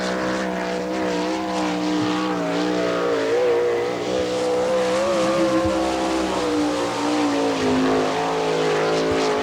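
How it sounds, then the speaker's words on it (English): Sprint car number 99 from Elmore screams around Attica on a qualifying lap at an All Star Circuit of Champions event, a loud continuous engine wail rising and dipping through the corners with tire noise beneath. "Alvin Repke is your next qualifier in car number 99 from Elmore."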